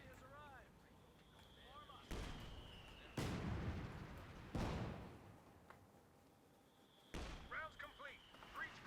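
Mortar half-track in a real-time strategy game firing repeatedly: several sharp, booming blasts spaced a second or so apart, each with a trailing rumble, over low background battle noise.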